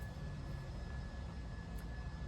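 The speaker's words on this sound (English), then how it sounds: "So here comes Leo in a plane" A plane drones faintly and steadily in the distance, a low continuous engine rumble with no voices.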